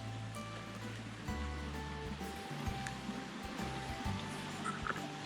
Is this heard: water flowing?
yes